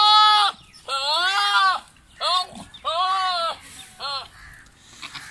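Teddy goats, a small herd of bucks and does, bleat loudly and close by in several separate calls with short pauses between them.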